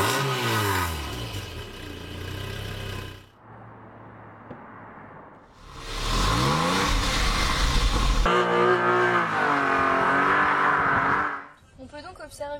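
A small Renault Twingo's engine revs hard while driving, rising and falling through gear changes in loud bursts separated by a quieter lull, with a voice briefly over it.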